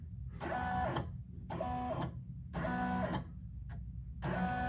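Embroidery machine tracing the outline of a design on a silk robe: four rhythmic bursts of rapid mechanical whirring and clatter, each about a second long, separated by short pauses over a steady low motor hum, close and fairly loud.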